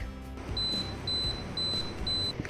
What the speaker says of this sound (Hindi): जैसे ही स्टीम हो जाएंगी इसमें बीप बजती है